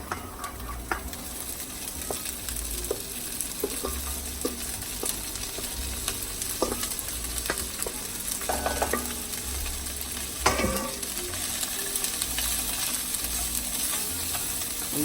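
Corn and garlic fry steadily in a pan, a continuous soft sizzle with occasional clicks and scraping stirs, fairly quiet, with no talking.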